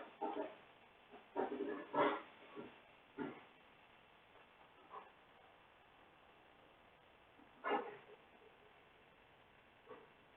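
A dog in the room gives several short, muffled whimpering and barking bursts spaced irregularly over a quiet background.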